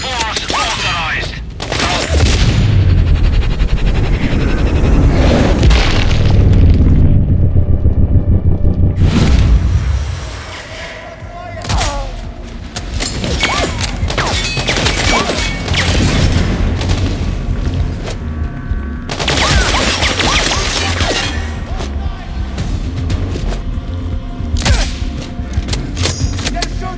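Gunfire in the video game Sniper Ghost Warrior Contracts 2. Loud booming shots and rattling volleys rumble at close range, with radio chatter and voices calling out amid the firing.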